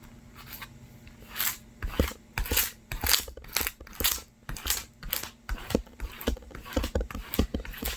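A squeegee presses and scrapes across printed heat transfer vinyl in a series of short, crisp scraping strokes, each a quick rasp close to the ear, repeating in an uneven rhythm with a faint steady hum underneath.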